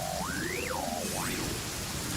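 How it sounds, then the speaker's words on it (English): Thunder in the video game Genshin Impact, a sustained broad rumble like heavy rain, with a sliding whistling tone running over it early on and no one talking. "The sound of thunder is quite startling."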